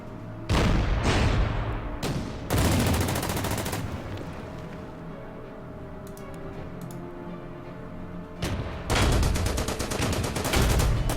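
88 gun firing on a Matilda tank in the strategy video game Order of Battle, several loud, sharp cannon blasts with rolling echoes and a quieter stretch of battle ambience between them.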